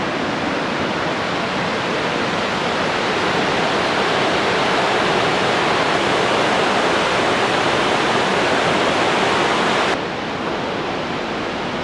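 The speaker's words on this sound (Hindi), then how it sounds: "ये विष्णुप्रयाग है और ये अलकनंदा नदी" The Alaknanda river rushes at Vishnuprayag in the Himalayas, a loud, unbroken roar of churning whitewater filling the scene, dipping slightly near the end, with no voices.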